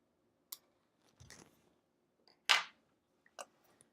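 Scissors snip through fabric while a hand quilter trims pieces for an hourglass quilt block, giving a few short, separate crisp cuts with quiet gaps between them, the sharpest snip near the middle.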